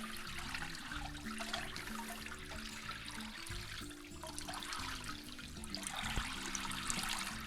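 Water runs and trickles steadily off a rehydrated elk hide, hair side pointed downward, in a continuous close splashing drain with no pauses.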